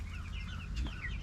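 Buff Orpington chickens cluck softly and fairly close by in a coop, with short murmuring calls over a low steady background rumble.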